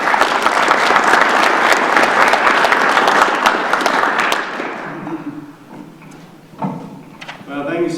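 An audience applauds a panel guest with dense, loud clapping for about four seconds that then fades, followed by a few thumps and a person beginning to talk.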